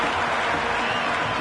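Cricket crowd at a T10 match between Jeddah Lions and Multan Sultans cheering and applauding loudly after a boundary, a dense, steady roar of clapping and voices filling the whole moment.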